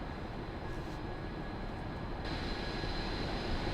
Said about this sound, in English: It sounds pretty epic though, this train.